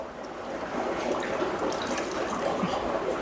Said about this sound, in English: So, wet the rag.